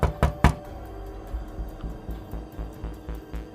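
Knocking on a house door at night: two sharp, loud raps up front, followed by a steady run of softer, evenly spaced knocks.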